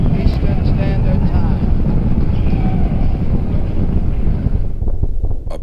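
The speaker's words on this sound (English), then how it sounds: "we have ignition. All engines are running. We have liftoff." Apollo 4 Saturn V rocket engines roar at liftoff, a loud, steady, broadband rumble that continues throughout before thinning out near the end.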